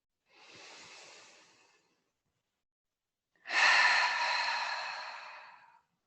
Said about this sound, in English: releasing the air out of our lungs and breathing in together